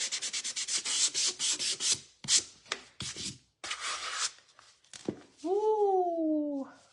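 A glass and resin art pumpkin is sanded by hand, quick rapid scratchy strokes followed by a few slower rubs, close and fairly loud, ending with a brief high whine.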